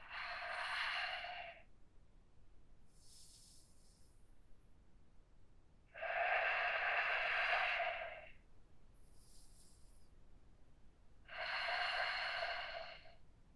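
Deep, slow breaths held in a yoga hip stretch, each long airy inhale or exhale lasting about two seconds, close and clear, with three strong breaths and fainter ones in between and no talk.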